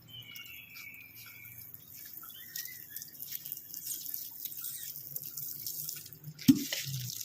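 Water runs from a tap or pipe while a pet parrot is bathed, a soft steady hiss with faint drips and crickets chirping in the background, ending with a sharp splash near the end.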